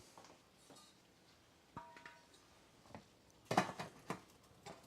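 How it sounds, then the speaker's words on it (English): A lid set onto a cooking pot during a vegetable stir-fry with zucchini, soy sauce and snow peas, giving a brief metallic clatter of a few quick knocks amid light kitchen clinks, fairly quiet. "Put the lid on."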